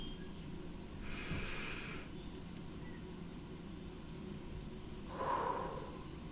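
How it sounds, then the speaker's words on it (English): Two deep breaths during a guided energy-clearing meditation, each a soft, airy rush of inhaling or exhaling, separated by several seconds of quiet hiss, close and gentle. "Another deep, deep breath."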